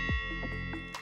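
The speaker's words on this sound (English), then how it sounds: "If we use bell impact," A bell impact sound effect in a map editor rings out as one struck bell tone, a bright metallic hit with a sustained shimmering ring that fades over about a second.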